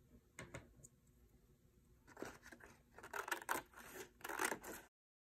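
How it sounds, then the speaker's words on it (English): Scissors cut out a paper tree trunk in quiet, close snips, sparse at first and then quickening into dense rustling bursts of blade and paper before stopping abruptly. "I just finished cutting out my trunk"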